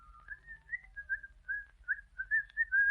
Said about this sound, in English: whistling cheerfully